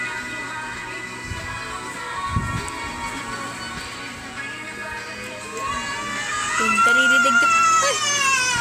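A baby, the speaker's niece or nephew, cries in the background, with wavering wails growing louder toward the end over a steady hum and occasional muffled knocks.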